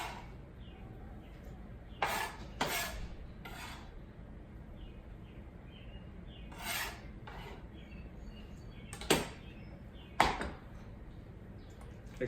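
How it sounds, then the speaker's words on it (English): Guacamole with tomato chunks being mixed in a bowl, giving a soft, continuous scraping rub with a few louder clinks and scrapes from the utensil against the bowl. "I continue to mix."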